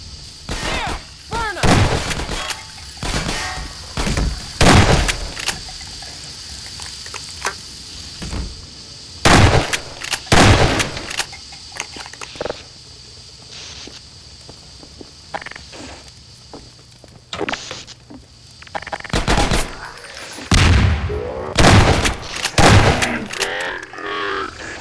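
Gunfire in Half-Life 2 Episode 1: a string of loud, sharp shots in irregular bursts, some rapid and clustered, others spaced apart, with quieter movement between volleys and no talking.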